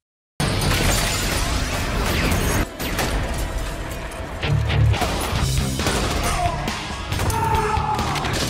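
Glass shatters loudly as a man runs through it in a film action scene, a sudden crash followed by sustained breaking and tinkling debris, with further impacts and chaotic noise throughout.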